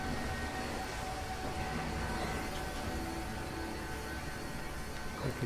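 A train arriving at the harbour in the Titanic: Honor and Glory VR game gives a steady, even rumble and hum that fills the scene at a moderate level with no break.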